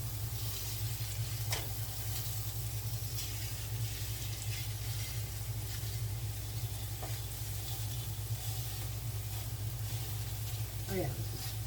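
Pork sausage browning in a pan, broken up with a utensil as it cooks; a steady broadband sizzle runs throughout, with occasional scraping and stirring clicks close by.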